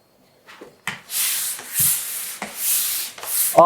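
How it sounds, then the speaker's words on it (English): Worn sandpaper on a pole rasps across a kitchen wall in repeated long strokes, close and steady, each pass a broad scratchy hiss with brief knocks as the pole shifts. "this is my very worn sandpaper on a pole"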